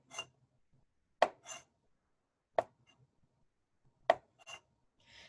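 Kitchen knife slicing through a raw carrot on a cutting board, three crisp chops spaced about 1.4 seconds apart, each with a short scrape or follow-up cut, close and clear with quiet between.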